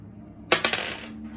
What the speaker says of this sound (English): So I'm going to roll some dice.